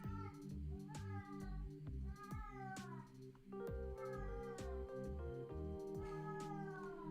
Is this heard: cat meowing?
yes